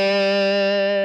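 A single distorted electric guitar note, fretted at the fifth fret of the D string, rings steadily and loud for about a second with no talk.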